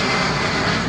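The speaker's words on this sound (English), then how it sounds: "Sorry, planes." Airplanes passing overhead produce a steady, loud broadband roar that fills the whole moment without letup, with no voices over it.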